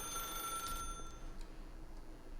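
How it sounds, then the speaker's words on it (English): A telephone rings in The Stanley Parable video game, a thin, bright electronic trill repeating faintly over a quiet background hum with no one speaking. "the phone, as far as I know, it will keep ringing"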